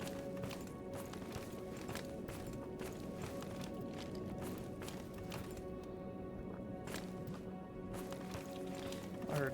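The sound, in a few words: footsteps in the video game Stalker Gamma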